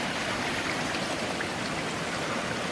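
Steady, close rushing of a river stream at Sage's Ravine on the Appalachian Trail at the Connecticut–Massachusetts border, a dense, unbroken wash of water with no voices.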